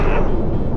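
A ground pound ability in the Firefall video game lands as a single heavy, booming impact, loud and close, its dense rumble filling the moment alone.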